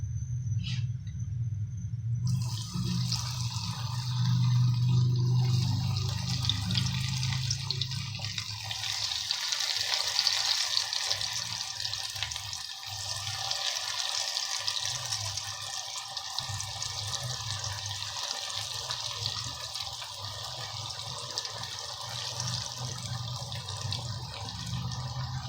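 Lahori pakoras dropped into hot oil set off a bright, steady sizzling hiss that starts after a quiet low hum and continues evenly for over twenty seconds, close by, with no one talking.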